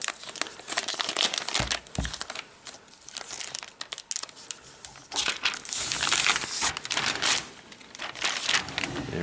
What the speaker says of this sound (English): let's go ahead and remove this envelope. So we have a little tab here. It should slide right out.